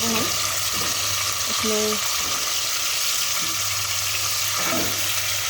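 Desi chicken frying in a pan for chicken achar gosht, a loud continuous sizzle with occasional utensil scrapes, and a voice speaking briefly over it.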